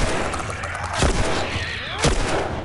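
Gunfire in The Last of Us, with two loud, sharp shots about a second apart over a busy backdrop of game sound.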